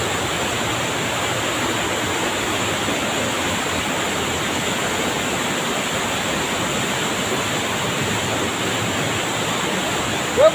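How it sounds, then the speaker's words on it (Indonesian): Water at the Curug Walet waterfall pours down from above in a loud, steady, close roar of broadband rushing noise that holds unbroken from start to finish with no other sounds. "Airnya mengucur dari atas."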